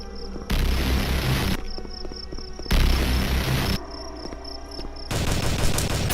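Scar H rifle fire in a video game: loud sustained bursts of automatic gunfire in several blocks, alternating with quieter gaps, dense and close.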